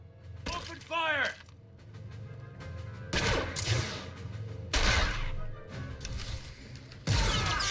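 Blaster gunfire in Star Wars: The Old Republic on Nar Shaddaa, with a Republic Trooper squad opening fire: bursts of sharp shots and impacts come in several loud clusters, mixed with game voices and battle noise.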